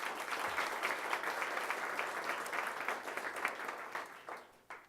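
An audience at a formal policy debate applauds steadily to welcome a speaker, dense clapping holding for several seconds before tapering off at the end.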